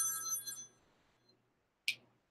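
A telephone rings once, a bright burst of bell-like tones fading away, then after a short silence a single sharp click-like chirp, all fairly faint and without talk.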